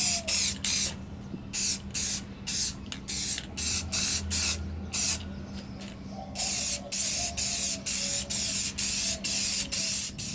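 Rust-Oleum trim and bumper paint sprays from an aerosol can in repeated short hissing bursts, each about half a second, loud and close, with a few longer sprays near the end and no talking.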